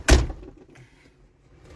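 A single solid slam of a Mitsubishi Mirage car door shutting up close, a heavy thud followed by faint rattling and quiet background, with no talking over it.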